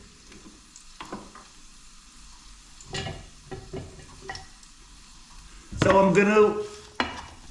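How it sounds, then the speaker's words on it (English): Chopped onion sweating in a pan, a soft low sizzle under scattered stirring clatter, with a brief voice speaking near the end. "sweat down my onion a bit"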